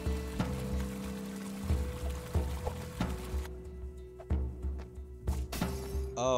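Watery pouring and splashing effects from the video game Chasm, layered over a steady synth music drone with shifting tones and brief sharp accents, no speech.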